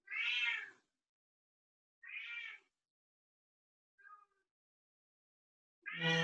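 A pet cat meows four times in a quiet indoor room during a home yoga session. The cries are separate and clear, with long silent gaps between them, and the last one is loudest and close.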